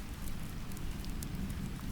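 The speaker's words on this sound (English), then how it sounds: "wrapped in rain and river sound" Gentle rain hissing steadily on an old bridge, blended with the soft continuous wash of a river below, even and close with no voices.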